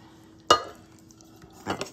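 Cheesesteak casserole mixture tipped into a casserole pan, a sharp clatter of utensil on dish followed by quieter scraping and a second softer knock near the end, close and otherwise quiet.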